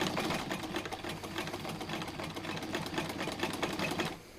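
A sewing machine stitches a forward and back seam on a dart bag, its rapid needle chatter running steadily and close, then stopping at the end.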